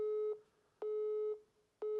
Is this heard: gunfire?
no